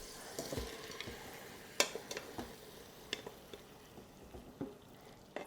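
Hot pasta dumped out of an Instant Pot, with scattered wet clatters and soft sizzling stirs, a bright splash near the start of the second second, fairly quiet and close with no talking.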